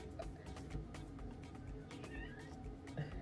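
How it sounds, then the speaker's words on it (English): A cat meows repeatedly in a home, several drawn-out calls at close range over a steady low background hum, with no one speaking. "You know, this cat always got something to say."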